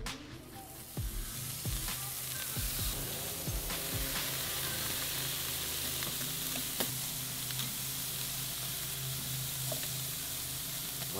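Salmon wings hiss and sizzle skin side down on a hot charcoal kamado grill grate at about 400 degrees, with a burst of crackling as each piece goes on, then a steady, close frying sizzle.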